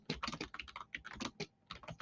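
Rapid, loud clatter of keys on a noisy computer keyboard, typed close up in uneven bursts with brief pauses and no talking.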